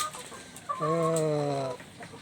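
A laying-hen breeder chicken gives a single drawn-out cluck lasting about a second, close and clear over quiet background.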